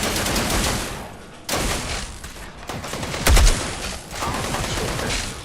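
Video game gunfire comes in rapid bursts of shots. Several loud volleys are separated by short pauses, with one heavy blast near the middle.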